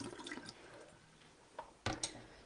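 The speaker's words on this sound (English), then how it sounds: "So I'm giving them a good rinse" Chestnut mushrooms rinsed under running kitchen tap water, a quiet trickle and splash followed by a few louder splashes near the end, with no talk.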